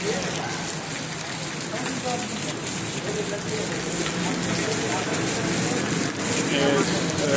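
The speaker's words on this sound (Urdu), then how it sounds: "بارش کا ویو دیکھو، حالی تک بھی بارش کوئی رکن دے کوئی چانسز تک نہیں نظر دے" Heavy rain pours nonstop onto a flooded street lined with shops, a dense loud hiss of drops hitting water and hard surfaces, with someone talking over it.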